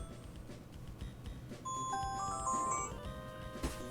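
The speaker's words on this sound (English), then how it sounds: "there's the alarm. Here's the sound it makes" An alarm or chime going off partway through, a short run of clear electronic tones stepping over a low background, moderately loud and up close without voices.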